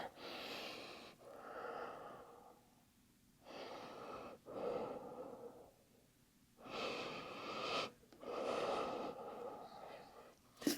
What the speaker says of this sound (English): And we'll take 3 breaths.